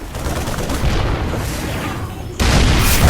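Siege tank cannon fire and explosions in a StarCraft II match, a dense, continuous barrage of booming shots with a sharper, louder burst of blasts near the end.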